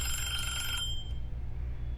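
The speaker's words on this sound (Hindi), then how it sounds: "किसी फ़ोन बज रहा है।" A phone rings with a bright electronic tone that stops after less than a second, leaving a low steady hum behind it.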